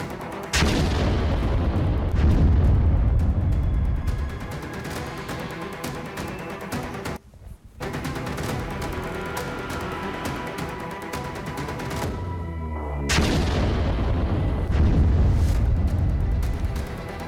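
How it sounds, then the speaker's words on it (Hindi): Bomb blast outside a residential building in Russia, loud and sustained rumbling booms with a brief dropout near the middle and a second surge toward the end, no speech. "देखिए कैसे अपने घर से इगोर किरलोव निकल रहे हैं और तुरंत ब्लास्ट होता है"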